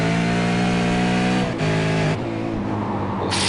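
A V8 Supercar engine in a racing video game revs hard and steady uphill at Lime Rock. The loud, sustained tone is near and alone, and it shifts pitch briefly twice as the throttle changes.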